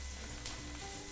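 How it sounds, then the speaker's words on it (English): Steak frying in a frying pan with other ingredients, a steady close hiss of sizzling fat, faint and continuous. "So the last thing now we're gonna add is the steak."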